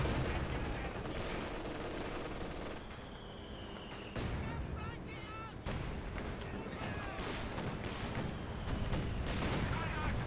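Battle din in Company of Heroes 2 during a winter 3v3 match on Rzhev, dense overlapping gunfire and artillery blasts rolling continuously at high level, with a voice talking over the barrage.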